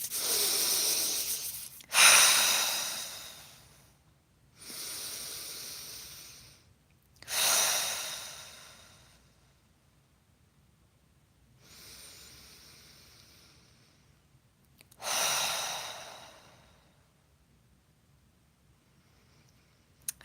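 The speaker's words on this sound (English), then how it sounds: "You want to take a few deep breaths." Slow, deep breaths during a guided meditation: five or so long, hissing inhales and exhales, close and moderately loud, each separated by quiet pauses, with no talking.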